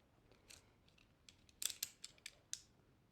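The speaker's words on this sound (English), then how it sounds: "I'm going to be using my X-Acto knife for this." An X-Acto knife slices small slits into duct tape, a faint run of short, sharp snips and scrapes that cluster into quick close cuts near the end.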